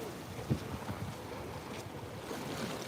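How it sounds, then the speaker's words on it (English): Ocean water and waves, a steady wash of surf with wind buffeting the microphone, continuous and fairly close, with no clear voices. "Who wants to sit here and just enjoy the water, the ocean?"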